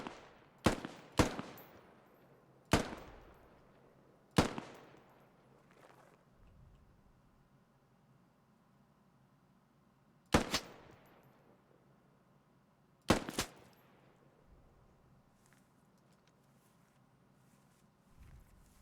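Scattered gunshots under a fire-and-maneuver drill, loud sharp single cracks, some in quick pairs, with long echoing tails and quiet gaps between them, no talk.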